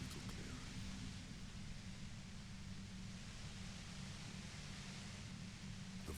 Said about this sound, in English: The violet white noise becomes even more overwhelming closer to the compressor.